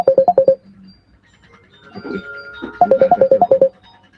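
A telephone rings for an incoming call: two quick bursts of chirping electronic ringtone notes, close and loud, with a brief spoken word in the gap between them.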